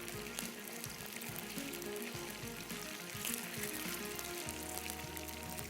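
Chicken pieces for Kung Pao chicken sizzle faintly in hot oil, a soft, steady frying hiss with scattered light crackles and no voices.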